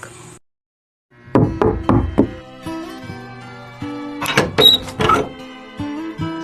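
Four sharp knocks on a wooden door in a Filipino radio drama, loud and close in quick succession, followed later by another burst of knocking amid soft room sounds and tonal background hum.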